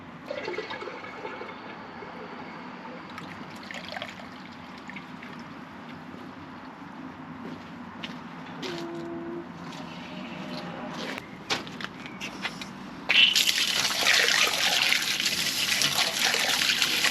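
Water from flushed toilets rushes and trickles through a backed-up household sewer line, a steady gurgling flow that swells into a louder, fuller gush near the end.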